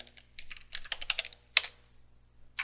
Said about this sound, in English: Type in our root password.